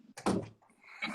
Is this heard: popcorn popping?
no